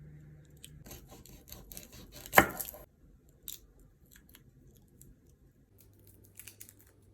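Garlic and onion being prepared with a knife for caramelized chicken, giving soft cutting and squishing sounds with a sharp burst near the middle and a few faint taps later.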